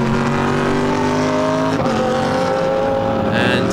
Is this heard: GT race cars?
yes